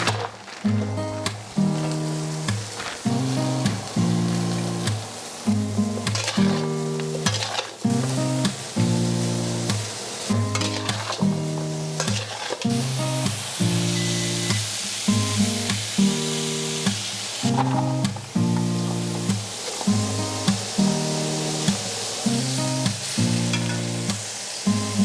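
Steak sizzling in a hot pan, a loud continuous fry with crackling pops and occasional scraping or turning noises, close up and with no talking.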